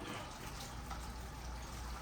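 Hot water pours off boiled turnip in a cooking pot, a steady close splashing trickle running without a break.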